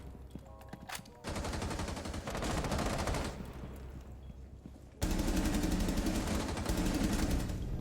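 Sustained automatic gunfire in Rainbow Six Siege, loud dense rapid bursts filling the clip with a brief pause before a heavier stretch of fire, no talk.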